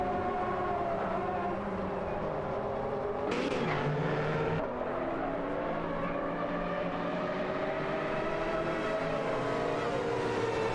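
Nissan GTP ZX Turbo and Porsche 962C Longtail race cars scream past in a racing game, a sustained high engine whine gliding in pitch, with a brief louder burst of passing noise midway.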